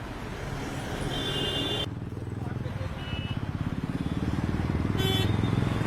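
A motorcycle engine runs steadily at a roadside traffic police stop, its low rhythmic putter rising slightly toward the end, with background chatter and street noise around it.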